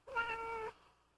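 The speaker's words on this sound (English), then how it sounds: "She's a true, red-blooded English cat." A single clear meow from a cat, close and tonal, rising briefly then ending abruptly, followed by quiet background.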